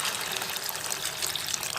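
Water is poured into a chickpea curry to make gravy, a continuous close splashing, gurgling pour that stays loud and even from start to finish.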